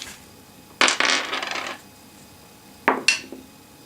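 A die clatters across a table during a tabletop wargame: one sharp rattling tumble that settles, then a second shorter clatter a couple of seconds later, quiet and close.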